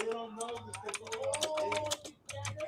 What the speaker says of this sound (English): Mr. On Demand typing